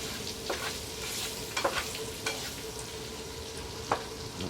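A flour-and-sausage gravy base sizzles softly in a pan at a winter campsite, a faint steady fry broken by a few scraping stirs.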